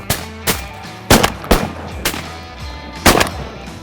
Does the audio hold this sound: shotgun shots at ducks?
yes